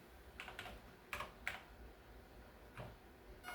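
Quiet, close keystrokes on a computer keyboard while using a Commodore setup, a handful of sparse clicks in irregular bursts over a low background hiss.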